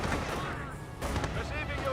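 Mortar and tank shots in Company of Heroes, a couple of booming blasts with rumble underneath and a commentator talking over the battle.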